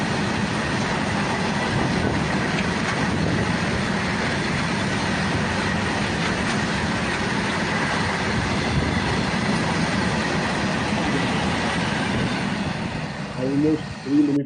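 Continuous heavy rumble and clatter of an extremely long Indian Railways Anaconda goods train rolling past nearby, loud and unbroken, easing off near the end.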